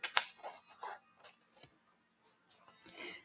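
Scissors snip through paper for a junk journal kit in a few quick, close cuts, each a crisp separate snap, with light handling noise between them.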